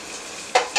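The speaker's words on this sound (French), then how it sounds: "Nous allons attendre un peu que l'huile soit chaude, légèrement chaude. Nous allons mettre les oignons." Onions frying in oil that is slightly hot. A soft steady sizzle runs throughout, and two sharper bursts of stirring or spattering come near the end.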